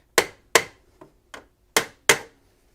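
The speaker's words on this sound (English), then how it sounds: "it's a good hammer" A wooden mallet with an oak head and pine handle striking a stuck part: five sharp knocks, three loud and two lighter, in an uneven rhythm with quick decays and quiet gaps between.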